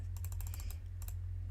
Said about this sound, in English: So I'm gonna press D on the keyboard.